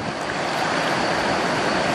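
The Ganga river flowing all around, a steady broad rush of moving water, loud and close, continuous with no pauses and no voices.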